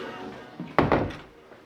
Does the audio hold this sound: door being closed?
yes